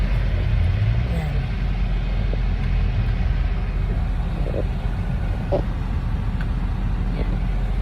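Traffic passing on a road, a low continuous rumble of cars and vehicles with a few brief louder pass-bys, steady and moderately close throughout.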